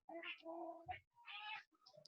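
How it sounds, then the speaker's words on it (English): Bella, a talkative pet cat, gives a string of close, faint meows and chirping cries, several short calls with brief pauses between them and a few small clicks. "It's a cranky cat."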